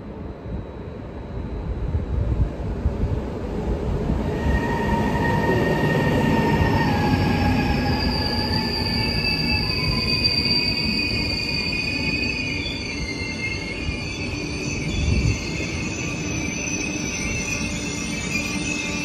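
A RegioJet international passenger train rolls into platform 3, track 14, at Žilina station, with a steady loud rumble and drawn-out high wheel squeals and screeches that last the whole time, and no voices.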